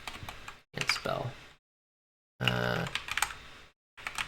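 Computer keyboard typing in bursts of rapid key clicks, close and clear, separated by short silences, with a voice speaking between them.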